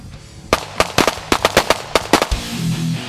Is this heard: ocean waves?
no